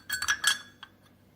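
Broken pieces of an etched drinking glass dug from an old hotel outhouse clink together as they are handled, a quick cluster of light, close glassy taps followed by two fainter ones.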